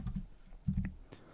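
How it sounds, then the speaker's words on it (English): Quick keystrokes on a computer keyboard typing an IP address into a Windows Server configuration prompt: a short burst of close, crisp clicks in uneven rhythm, with no talking. "just typing in the IP address that we want"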